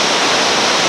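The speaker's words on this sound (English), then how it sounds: "Miller's Folly Rapid, our longest continuous rapid of the day." Loud, steady, close rushing roar of whitewater at Miller's Folly, a long continuous rapid in West Virginia, heard during a rafting run as dense, unbroken churning water with no voices.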